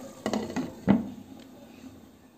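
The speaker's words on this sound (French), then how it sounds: "je mets le couvercle et je la laisse cuire pendant quelques minutes" A lid set onto a cooking pot of simmering tomato-paste sauce, a couple of light metallic clinks followed by one sharper clank, close and alone in a quiet kitchen.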